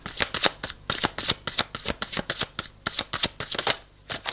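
A deck of oracle cards being shuffled by hand, a rapid run of crisp riffling flutters and taps close up, steady and brisk throughout with no voices.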